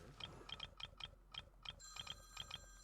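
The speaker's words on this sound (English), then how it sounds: "And that's my alarm to end the stream." A quiet alarm tone rings in a rapid repeating beep pattern, short bursts in pairs and triples over about three seconds, fairly faint against a low background hum.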